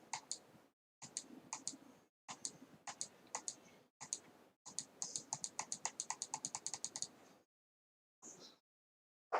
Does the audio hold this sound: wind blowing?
no